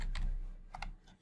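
Several quick keystrokes on a computer keyboard tap out a short name in small bursts, close and fairly faint, with brief pauses between clusters and no talking.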